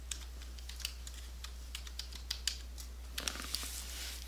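Typing a place label on a computer keyboard: a quiet run of light, uneven key clicks, with a small burst of quicker taps near the end, over a steady low hum and no talking.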